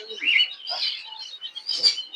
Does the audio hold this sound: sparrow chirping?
yes